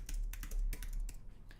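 Keys clatter on a computer keyboard in quick, irregular bursts of taps, close and fairly quiet, with no talking.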